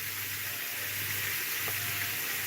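A thick steak fries in a hot pan, a steady dense sizzle that fills the whole stretch, close and continuous with a faint low hum beneath and no talk.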